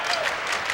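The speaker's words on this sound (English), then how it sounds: "And this crowd tries to show its encouragement for Indiana" A basketball arena crowd claps steadily for Indiana at the 1994 Hoosier Classic Championship against Arkansas Little Rock, a dense, continuous wash of applause throughout.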